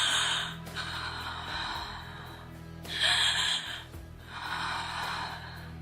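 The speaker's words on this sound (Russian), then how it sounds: "Появилось самостоятельное дыхание" During a stage play, a patient's breathing returns in three long, rasping breaths spaced a little apart, close and audible against a quiet hum.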